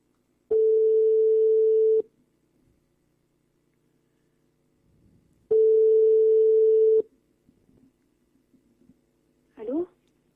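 Telephone ringback tone on an outgoing call: two long steady beeps several seconds apart, loud and clean against near silence, followed by a brief clatter as the line is picked up.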